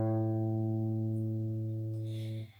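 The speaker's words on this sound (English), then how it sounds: "Moving on to our A string, we are also going to pluck it in the middle of the sound hole" A single acoustic guitar A string plucked once over the sound hole, slightly sharp, ringing clear and steady with rich overtones before being muted, with a soft rustle at the end.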